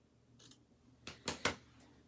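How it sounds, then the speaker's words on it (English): Scissors snip through a small card piece for a handmade fall card, three quick crisp cuts close by and fairly quiet, with no talking. "let's cut out the other one just to see which one will look nicer"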